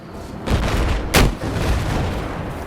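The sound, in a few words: rocket fired at a tank in a video game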